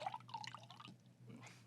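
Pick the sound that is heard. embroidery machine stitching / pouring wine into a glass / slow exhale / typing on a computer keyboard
pouring wine into a glass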